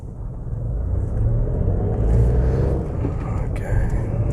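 A car engine pulls away in first gear during a driving lesson, a steady low rumble building as it accelerates, with a voice speaking over it near the end.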